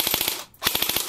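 A JG MP5 airsoft gun with a full stock fires on full auto, a fast, even rattle of shots close by in two short bursts with a brief gap between them.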